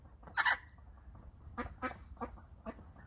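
Pet bird Roundy gives a few short, bright chirps, one louder burst followed by several softer, evenly spaced calls close by in a quiet room.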